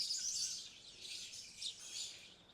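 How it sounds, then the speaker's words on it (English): Birds chirp and tweet outdoors in the morning, a faint, continuous wash of high calls drifting in from some distance, with no one talking. "hear the birds in the morning, hear the birds now"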